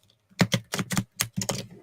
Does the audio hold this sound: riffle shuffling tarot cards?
yes